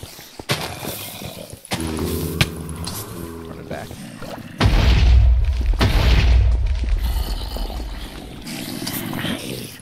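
A heavy booming explosion in the video game Laingral erupts midway, with a deep rumbling roar that lingers, preceded by clattering game sounds and a voice nearby.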